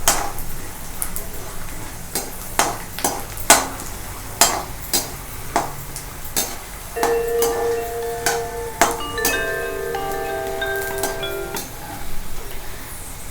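Peanuts frying in hot oil in a pan while being stirred, a low sizzle under sharp metallic scrapes and clinks of a spoon against the pan, irregular and close, with a brief brighter ringing clatter near the end.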